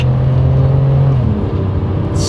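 Toyota Century with an automatic transmission accelerating, a steady low engine drone that drops in pitch partway through as the gearbox downshifts, heard from inside the cabin with road noise throughout.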